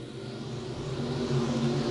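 E-Mod race cars at I-35 Speedway roar off together at the race start, a sustained low engine drone swelling slightly from a distance with no talk.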